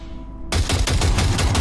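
Repeated gunfire in Cyberpunk 2077 target practice: after a brief quiet lead-in, a loud, dense run of shots starts and continues in quick succession, each report close and sharp, with no talking.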